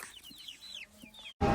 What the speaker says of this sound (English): The new Goldinger Farms egg layers haven't quite figured out how to go in the chicken coop yet